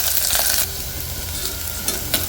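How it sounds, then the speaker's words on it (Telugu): Vegetables and garlic fry in hot oil with a steady, close sizzle, broken by a few brief stirring scrapes and clinks, and no voices. "కొద్దిసేపు ఆయిల్ ఫ్రై అవ్వనివ్వాలి ఈ వెజిటేబుల్స్ని"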